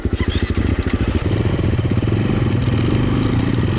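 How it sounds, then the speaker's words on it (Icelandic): A motorcycle engine runs close and loud with a steady, rapid pulsing throb and light mechanical clatter, holding an even rev for nearly four seconds before cutting off abruptly; ridden on a bike tour in Landmannalaugar, Iceland. "Ég hef byrjað að keyra þetta hjól"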